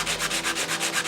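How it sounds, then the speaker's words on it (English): A wooden piece for wall art is sanded by hand in quick, even back-and-forth strokes, about eight rasping passes in a steady rhythm, close and clear with no talking. "take it and sand it"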